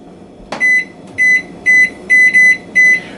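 A kitchen timer gives one sharp click and then six short, loud electronic beeps in an even rhythm as it is set for fifteen minutes.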